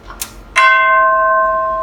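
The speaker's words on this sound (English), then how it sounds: "I play tubular bells." Tubular bell struck once with a mallet on the note C, giving a bright metallic strike after a couple of soft taps, then a loud, steady ringing tone that sustains with little decay.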